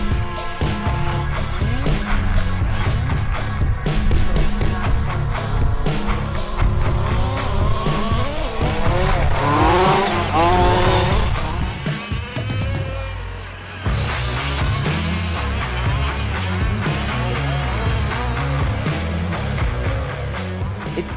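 Large-scale off-road RC cars race at the 2018 Avalon Cup, with loud, continuous high-pitched motor whine rising and falling as the cars pass, tires squealing and skidding, and a brief lull before the racing noise resumes.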